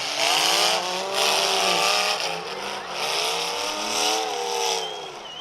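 Demolition derby cars at a county fair roar around a dirt track, engines whining and revving in rising and falling waves from mid-distance, loud and continuous with no voices.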